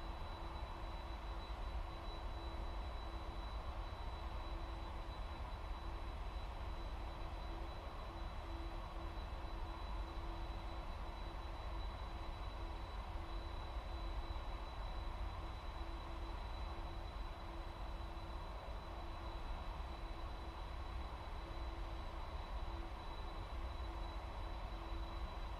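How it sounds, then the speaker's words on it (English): An airliner takes off from the runway in the VATSIM flight simulator on a flight from Jakarta to Bali. A steady, even engine roar holds unchanged throughout with no voices. "As Tim rotates up off the runway into the sky."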